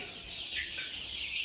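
Chickens cluck steadily inside a coop, a dense, overlapping chorus of hens with one louder cluck standing out midway, no voices present.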